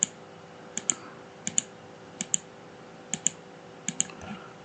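Sharp computer mouse clicks while working in Autodesk Revit 2024, landing in quick pairs about every second, close and crisp over a low steady hum.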